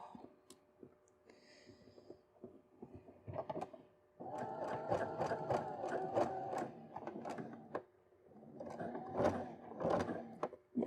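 A tired, noisy home sewing machine stitching with a twin needle, sewing in bursts of rapid mechanical clatter with short pauses and handling knocks in between.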